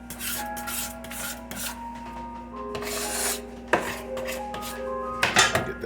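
A metal knife scrapes and rubs across a pan while deep dish pizza is being made, giving repeated gritty strokes and clinks with ringing metallic overtones, close and fairly loud.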